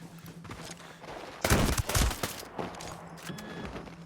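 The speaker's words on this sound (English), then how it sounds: "That was one shot from that dude's shotgun." An enemy's shotgun fires in the video game Ghost Recon Breakpoint, one loud, sharp blast with a short rattling tail, standing out from quieter in-game gunfire and background ambience.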